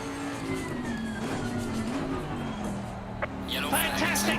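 Race car engine droning steadily through laps of the Nordschleife in Assetto Corsa, a sustained mid-pitched tone that rises and dips with throttle, joined by a brief tire skid and a rushing burst near the end; a voice talks over it.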